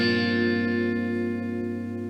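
A single strummed guitar chord, with the top B and E strings barred by the index finger, rings out and slowly decays, with a bright, effected tone and no voices.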